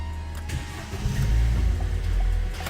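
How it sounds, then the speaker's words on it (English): A Vauxhall Corsa with an intermittent non-start fault runs in a workshop, its steady engine and whirring cooling fan droning loudly and continuously at close range, with no one talking. "You may hear the fan going like the clappers"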